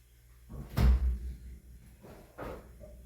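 A refrigerator door is opened and shut while a homemade sweet potato sourdough starter is put away, giving a soft thump followed by a quieter second knock a moment later, close by in a quiet kitchen.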